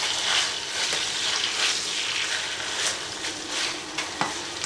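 Sausages and potatoes frying together in a pan give a steady, close, busy sizzle with crackling spits throughout and no talking.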